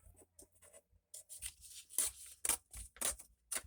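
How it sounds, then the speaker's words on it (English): Paper being torn off into a strip while making a junk journal, a series of quick crisp rips and scratchy bursts, close and fairly quiet, with short gaps between pulls. "So we're going to tear this off."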